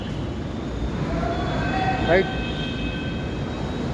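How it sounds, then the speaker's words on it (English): A metro train pulls in beside a city street lined with very big buildings, a steady rumble with a brief squeal of brakes partway through, heard under a voice. "Yeah, metro came."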